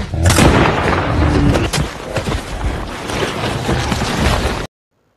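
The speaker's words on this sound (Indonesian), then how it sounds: "Mendengar suara tembakan dari Glass di dalam hutan" Loud booming gunfire in a forest with heavy thuds and rumbling echo, a burst at the start then more reports, cutting off abruptly near the end.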